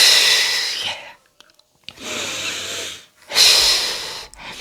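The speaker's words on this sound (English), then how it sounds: "I'll take that deep breath." A deep breath taken during a moment of stress: three long, loud airy inhalation and exhalation pushes close to the mic, separated by short silent pauses, with no talking.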